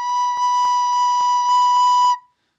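A recorder plays a steady B note with a clear, pure whistle-like tone, held for about two seconds before cutting off, alone with no talk.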